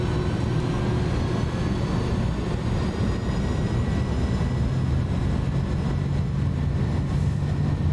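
Airbus A310-300 jet engines holding steady, loud takeoff thrust, a dense continuous roar with a faint high whine running through it and no talking.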